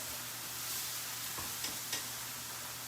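Ground turkey browning in an iron skillet on the stovetop gives a soft, even sizzle, faint and continuous, with a couple of light stirring scrapes near the end.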